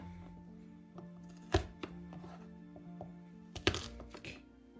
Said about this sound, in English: Now we smash the garlic like this.